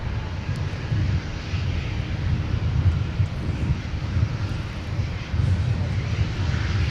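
A fixed-wing airliner landing at Minneapolis–Saint Paul airport, its engines making a steady, fairly loud roar and rumble that holds throughout, with some wind noise and no talk.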